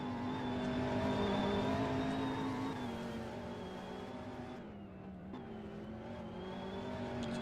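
A race car engine in a racing game holds a loud, steady drone that dips slightly and swells again as it closes in, with no voices.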